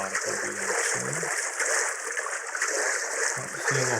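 A character wades into and moves through shallow water in the game Dark and Light, with steady splashing and trickling that runs throughout, a voice briefly heard at the start and end.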